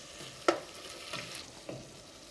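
Venison escalope with mushrooms cooks gently in a pan, giving a soft steady sizzle with a few light clinks and stirring scrapes.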